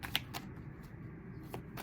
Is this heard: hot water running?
no